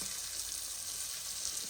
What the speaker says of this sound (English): Just lay them in the hot oil.